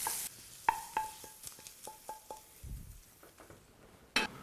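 Shrimp and crab meat sauteing in butter in a pan, a soft continuous sizzle broken by a series of sharp clinks and scrapes from a utensil stirring against the pan at an uneven rhythm.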